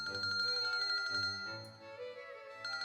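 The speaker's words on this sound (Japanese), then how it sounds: "Mina got an incoming call on her cell phone." A cell phone rings for an incoming call in a visual novel game, playing a clear melodic tone with sustained bell-like notes that repeat as a short phrase, close and steady, with no speech over it.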